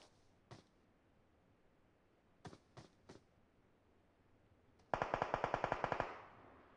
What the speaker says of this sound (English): Shots are fired.